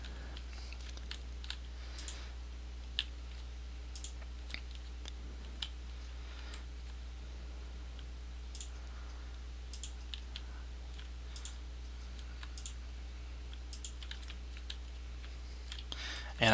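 Steady keyboard typing and mouse clicking at a desk while flying around in MCedit for Minecraft, using the W, A, S and D keys: soft, close, irregular key taps over a constant low hum, with faint talk now and then.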